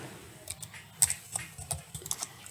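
Someone typing on a computer keyboard while writing an invitation in Microsoft Word, a close, uneven run of crisp key clicks with short pauses, no talking.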